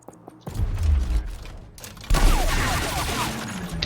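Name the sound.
gunshots in the video game Gears Tactics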